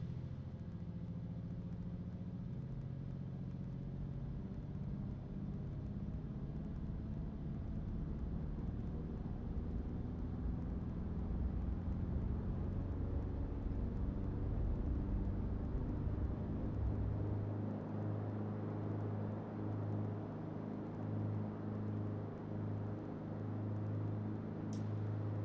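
Carenado CT210-M Centurion engine in X-Plane 11 holding a steady, loud drone as power builds through a takeoff roll, the harmonic tone rising gradually and shifting pitch near the end, with no talking.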